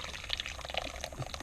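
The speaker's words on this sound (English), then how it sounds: "We're going to pour it in here in batches." Homemade ketchup mixture is poured into a fine mesh strainer in a short, close, steady liquid pour with a soft splashing trickle.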